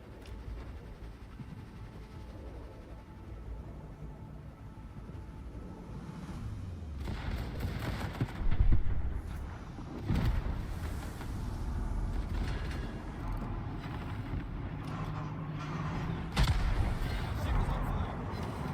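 Warship guns fire in the World of Warships naval game during a Leyte Gulf battle, heavy booming salvos over a constant rumbling engine and sea bed, with louder blasts coming in irregular bursts.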